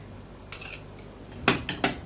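A metal spoon scrapes and taps against a pan while spreading buttery garlic bread dough, giving one soft knock and then three sharp, close scraping clicks in quick succession, with no voices.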